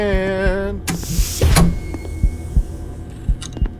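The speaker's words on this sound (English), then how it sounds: "Is that my heartbeat?" Heartbeat in the video game Dead Man's Journey: a steady run of low, dull thumps in the second half, following a louder burst of game noise and a whoosh, with no talk.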